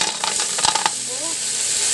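Shells are stir-fried with lemongrass, ginger and onion in a pan, giving a loud, steady sizzle with a few clattering stirs of the shells early on, then continuous hissing frying.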